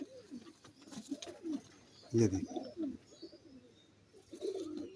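Teddy pigeons coo in soft, low, throaty phrases at close range, with a louder bout midway, while someone talks quietly over them.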